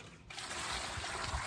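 Water pours steadily into a cement mix being made sloppy for soaking boots and clothes for a life-size concrete figure, a continuous close trickling splash after a brief quiet start.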